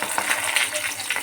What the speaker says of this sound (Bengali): তো আমি এখন ভাজি করতেছি